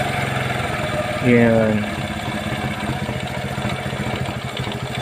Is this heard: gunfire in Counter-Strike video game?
no